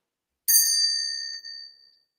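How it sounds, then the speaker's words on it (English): A single struck ritual bell rings out clearly and alone, with a bright bell tone that sustains and slowly fades over about a second and a half. "we have our ritual bell, and this is to indicate that we have started the ritual"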